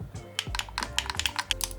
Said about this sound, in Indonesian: Tombolnya kayak switch clicky.